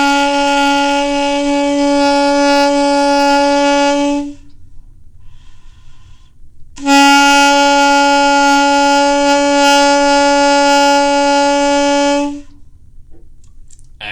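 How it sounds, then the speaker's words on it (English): An alto saxophone sustains a single B note, fingered with the first finger and home key, for about four seconds. After a short silence the same steady, bright tone returns for roughly six more seconds, loud and close with no talk. "Our note B is first finger, home key, and it should sound like this."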